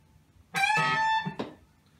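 An electric guitar bends the high E string at the 15th fret up a whole step, one sustained, slightly distorted note rising in pitch, then a short second pick, close and alone.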